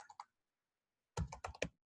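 Computer keyboard typing in short bursts: a couple of light keystrokes, a pause, then a quick cluster of four or five louder, close clicks.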